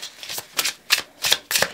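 A tarot card deck is shuffled by hand in several quick riffling bursts, close and crisp, with short pauses between each pass and no speech.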